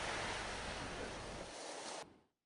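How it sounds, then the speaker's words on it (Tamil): Rough sea waves crashing on the coast during Cyclone Nada, a loud, broad roaring wash of surf and wind that holds steady and then cuts off abruptly. "நடா புயலின் எதிரொலியாக 49 கடலோர கிராம பகுதிகளிலும் கடல் மிகுந்த சீற்றத்துடன் காணப்படுகிறது"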